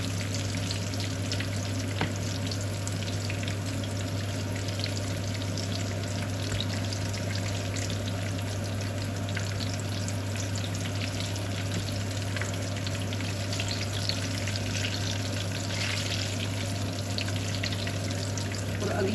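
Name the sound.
stuffed chillies frying in a pan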